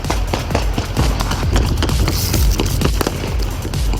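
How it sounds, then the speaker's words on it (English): Rapid bursts of gunfire crack loudly during a police SWAT shootout in Houston in which officers were shot, sharp repeated reports in quick irregular succession over a noisy, chaotic background. "Shots fired! Shots fired!"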